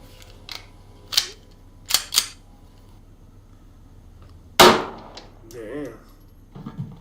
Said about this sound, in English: Moving up to a Smith & Wesson handgun here,